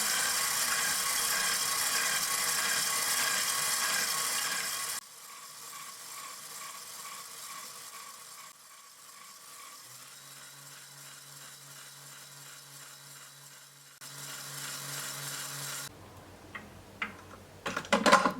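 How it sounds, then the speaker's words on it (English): An electric mixer whips egg whites for an orange almond cake. Its steady, loud whir shifts in speed and tone several times and ends with a few clattering knocks against the bowl. "I will start mixing egg whites until they are white and fluffy"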